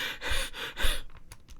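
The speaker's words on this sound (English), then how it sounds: "Cameron's breath starts to become erratic, gasping for air." Erratic, gasping breaths from a struggling coyote character, a quick series of ragged inhales and exhales, close and fairly loud, with a few fainter catching breaths trailing off at the end.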